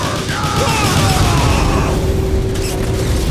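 A firing-squad volley in the Transformers: War for Cybertron video game bursts out as a loud, dense boom with rumbling low end, trailing into mechanical noise and a faint tone.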